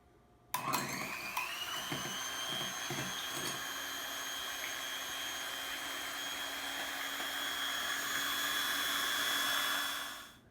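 An electric mixer whips egg whites into meringue for Japanese soufflé pancakes, starting with a sharp click and then holding a steady, close, high-pitched whine for about ten seconds before spinning down at the end.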